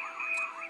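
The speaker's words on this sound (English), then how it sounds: "makes car alarm noise like you just beat the shit out of a car" A talking Avengers Hulk action figure emits a brief electronic car-alarm wail, a thin warbling tone lasting under a second, clear and alone.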